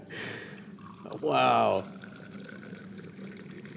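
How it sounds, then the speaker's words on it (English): Moroccan-style tea is poured from a great height, a short, bright splashing stream lasting under a second, close by, after a brief spoken exclamation. "typically, the Moroccans will pour tea from great heights"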